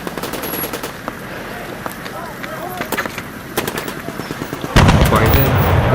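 Battlefield gunfire effect from a wartime jeep clash against Pakistani tanks: loud rapid machine-gun bursts and scattered single shots crackle throughout, swelling into a heavier, denser barrage near the end.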